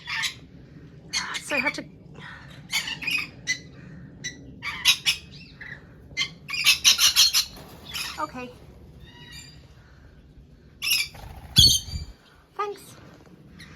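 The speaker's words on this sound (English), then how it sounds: "Red-collared lorikeet." Red-collared lorikeets squawking at a bird park in Ballarat, Australia, harsh repeated calls in short bursts near and far, mixed with people talking nearby.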